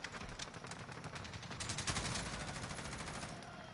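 Rapid gunfire in the video game Call of Duty Black Ops Cold War, a dense stream of automatic shots with crackling impacts, fairly faint and continuous throughout.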